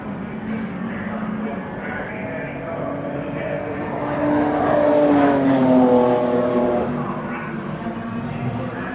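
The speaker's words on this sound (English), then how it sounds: "The race leader goes through there, number 43, the red BMW" Red BMW race car, number 43 and leading, passes on a short 1.2-mile circuit during a BRSCC race, its engine note swelling from a steady drone to a louder peak near the middle before easing away.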